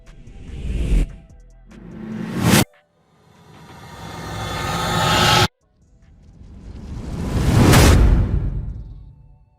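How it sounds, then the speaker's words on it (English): Cinematic sound-design rises and whooshes come one after another: a short swell cut off sharply, a longer building rise that stops abruptly, then a loud sweeping whoosh that peaks and fades away. "Here are some example of rises and whooshes."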